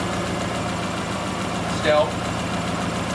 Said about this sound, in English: It's definitely got an exhaust leak